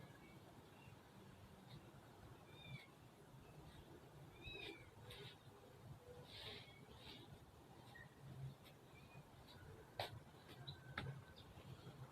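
Cats give several faint, rising meows spread across the clip. The calls sound distant and quiet over a low background hiss, with a few small ticks.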